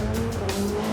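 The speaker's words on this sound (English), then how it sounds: "Then, Lars Kern really steps on the gas for the first time." A Porsche hybrid race car driven hard by Lars Kern roars loudly at close range under full acceleration, a continuous dense engine drone with a steady tonal hum beneath, no voices.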